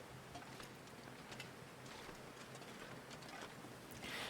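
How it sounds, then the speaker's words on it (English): Wind gusting through a snowy canyon in the survival game The Long Dark: a steady, fairly faint broadband rush with small swells, rising slightly stronger toward the end, with no other sounds on top. "Oh, and the wind is coming and slowing me down."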